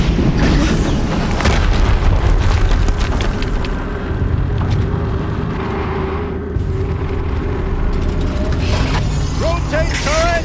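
Dense, continuous game soundscape from Horizon Zero Dawn on PS5, with deep rumbling booms and mechanical clanking throughout, loud and sustained like an ongoing explosion and battle with no clear separate blasts.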